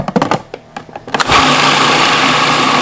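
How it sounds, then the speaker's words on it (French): A blender grinds keto granola ingredients with egg whites, coconut oil and vanilla extract, starting after a few short clicks and knocks and then roaring loudly and steadily to the end. "je vais encore broyer jusqu'à temps que tout soit bien mélangé"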